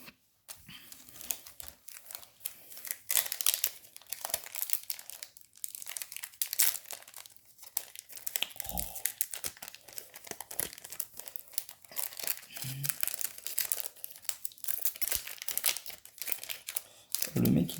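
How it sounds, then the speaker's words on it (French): Yu-Gi-Oh booster packs being torn open by hand, with dense, continuous crinkling and tearing of foil wrappers close up, steady and busy throughout, and occasional speech mixed in. "Le mec il galère à ouvrir des boosters."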